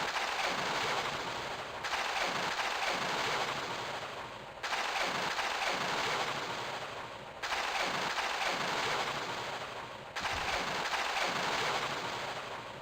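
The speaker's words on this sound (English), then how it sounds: "What is he even shooting at? Supposedly he's shooting at Lara" Enemy gunfire in Tomb Raider 1, harsh bursts of loud shooting that recur in sections, each starting abruptly and fading slightly before the next, with no talking.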